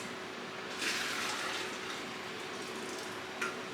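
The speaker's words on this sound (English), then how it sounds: "pour it in here because it has a spout, so it's a lot easier to then pour into my funnel" Vinegar poured into a spouted container while making dill pickles, a steady close trickling splash of liquid with a couple of brief gushes, heard alone without talk.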